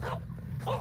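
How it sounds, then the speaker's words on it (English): A pet dog gives two short, sharp barks in a home setting, one at the start and another near the end, close to the listener with a quiet pause between them. "Yeah, so I got a barking dog."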